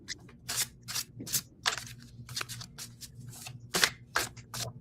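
Tarot cards being shuffled by hand, a series of about a dozen crisp, papery riffling bursts in an uneven rhythm, close and fairly clear over a faint low hum.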